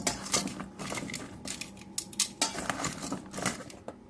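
Sweet potato fries tossed with spices in a bowl, a quiet run of irregular scraping, clinking and rattling bursts close up.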